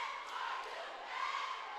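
Basketball crowd at an Elsinore high school playoff game in a gym, a steady loud roar of voices shouting in protest over a call, sustained throughout with no pauses.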